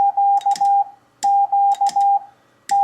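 Morse letter Q (dah dah dit dah) keyed on a paddle comes through as a loud, clean sidetone beep in crisp on-off bursts, with the key's mechanical clicks audible, repeated twice with a pause between and a third beginning.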